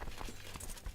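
Horse hooves clip-clopping in the video game Crusader Kings 2, a few quick steady hoof falls over a low ambient game soundscape.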